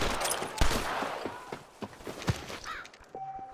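Scattered gunfire in the video game Red Dead Redemption, several muffled shots and cracks at uneven intervals over a busy background with footsteps-like thumps.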